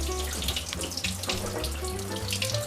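Soaking water from almonds pours steadily from a container into a kitchen sink, a continuous close splashing and gurgling stream with no talk.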